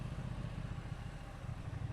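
Triumph Bonneville T120 1200 twin-cylinder motorcycle engine running nearby with a deep, even, pulsing throb, steady and fairly loud.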